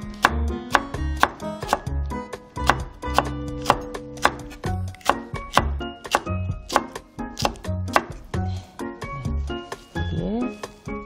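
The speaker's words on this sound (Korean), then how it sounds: "홍고추는요, 그냥 이렇게 얇게 써셔서" A knife thinly slicing red chili peppers on a cutting board, steady rapid chops knocking sharply and evenly, close and loud, with no voices.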